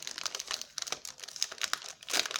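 A crinkly scrapbooking pouch is opened by hand, giving close, irregular bursts of crackling and crumpling plastic for several seconds, with no talk.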